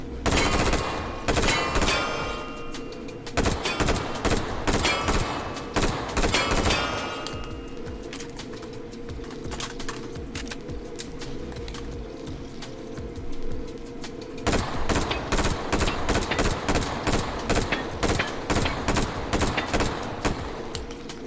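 M16 rifle firing in the video game Resident Evil 0, rapid loud bursts of automatic shots with metallic clanks, pausing midway before another long run of fire resumes.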